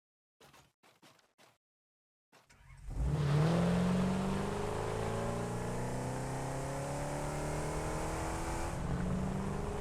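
An Explorer vehicle in the video game Satisfactory: a few soft clicks, then the engine kicks in loudly and holds a steady, droning rev as it drives on.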